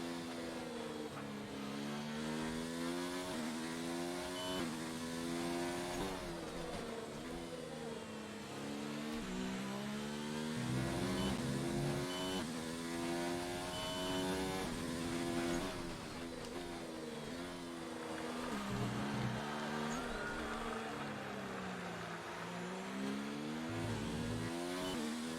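A Formula 1 race car engine screams at the France Grand Prix in a racing video game, a loud, sustained high whine rising and falling with gear changes and throttle throughout, with talk over it.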